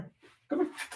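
A pet dog named Bruce whimpers and huffs close by in a short, uneven burst of soft yips and breaths, with a faint voice nearby.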